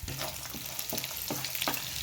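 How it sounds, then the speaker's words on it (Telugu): Chopped onions and green chilies sizzle in hot oil for poha upma, with a steady crackling hiss. A spatula stirs through the pan several times, sending through a few soft scraping pulses. "ఆనియన్స్, పచ్చిమిర్చి వేగిపోయినాయండి."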